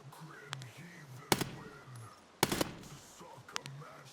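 Two bursts of automatic gunfire from PMCs in Escape from Tarkov crack out over quiet raid ambience, with a few single distant shots between them and someone talking softly.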